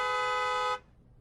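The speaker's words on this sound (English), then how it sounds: "Looks like my horn honking got the attention of" A loud, sustained car horn in a Star Wars video game blares as one steady honk for under a second, then cuts off abruptly into near silence.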